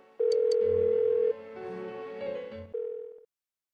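Phone line tones in the video game Persona 4 Golden: a steady electronic ringback buzz sounds in two or three long pulses, each cut off by silence, with no one answering and no voices.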